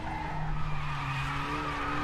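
A Renault WTCR race car in the RaceRoom game at the Nürburgring slides under braking, steady tire skidding over a droning engine tone, loud and continuous for about two seconds without talk.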